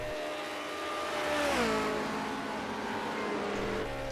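A 1967 Lotus 49 Formula 1 car heading downhill at Spa in a racing game, its engine note rising to a peak then dropping sharply as it shifts or lifts, then building again, moderately loud and steady.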